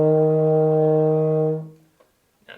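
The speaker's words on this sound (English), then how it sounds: "Okay, then we're going to go down one note to E flat." A euphonium holds a single sustained E flat, steady and full for about a second and a half before fading out, close and alone.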